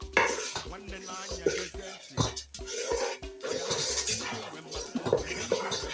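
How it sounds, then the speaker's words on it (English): Ogiri being stirred and mixed into abacha, the African salad of Enugu State, with steady clinking and scraping of utensils against a bowl and soft mushy stirring, close and busy throughout with no talk. "this is me mixing the ogiri"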